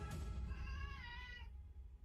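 A cat lets out a single wavering meow lasting over a second, soft and somewhat distant against a low background hum, then falls quiet.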